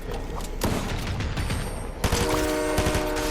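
Assault rifle gunfire in a Fortnite long-range fight during a Teenage Mutant Ninja Turtles event: dense, sustained bursts of shots with mechanical clatter, continuous and loud throughout, no talking.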